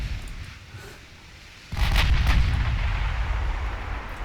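Naval gunfire from escort warships in the Ultimate Admiral Dreadnoughts game: after a quiet stretch, a sudden heavy booming salvo erupts and rumbles on as a sustained, loud roar of overlapping blasts.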